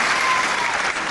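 A wrestling crowd at Dunstable applauds loudly and steadily, a dense wash of clapping hands filling the hall, with faint crowd murmur underneath.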